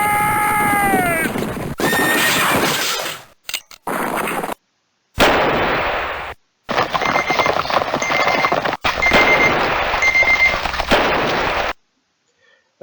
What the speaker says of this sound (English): was the sound of my timer, which is telling me that it's time to end the video